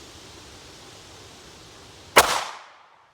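A single sharp gunshot from an NAA Black Widow revolver with a 2-inch barrel firing 40 grain Fiocchi 22 Win Mag rounds, a loud close crack that rings out briefly over faint background hiss.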